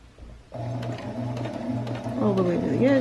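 A sewing machine stitching a fabric face mask with a filter pocket, a steady close mechanical whir and rhythmic needle chatter that runs continuously, with the pitch rising slightly near the end.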